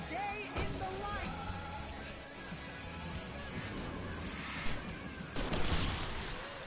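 Gunfire cracks and bursts of shooting from the video game Alan Wake Remastered come over a busy game soundtrack, with a loud impact near the end. A player talks over it.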